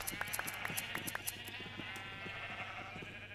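Several Minecraft sheep bleat in quick succession, short nasal calls overlapping in a clustered run, moderately faint over a steady game background hum.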